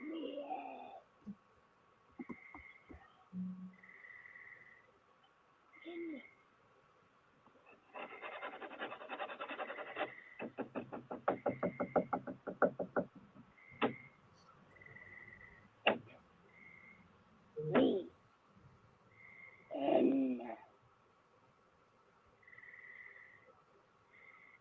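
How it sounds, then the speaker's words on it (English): A played-back recording full of scattered knocks, dull thumps and a stretch of rapid rasping scratches, with faint high chirps over a steady hum, quiet and intermittent. "scratching and knocking sounds permeated the audio feed"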